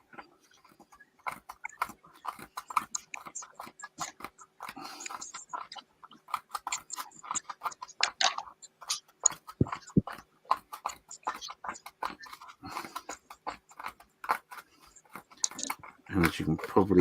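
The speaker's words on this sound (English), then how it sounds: "as you can probably hear me crunching away on my balls of foam" Someone chews and crunches on balls of foam right at the mic, dense irregular crackly bites continuing throughout, loud and close, with no talk over them.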